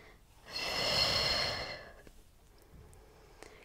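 A long, steady exhale through the mouth during a Pilates roll-up, loud and close, lasting about a second and a half and then fading into quiet room tone.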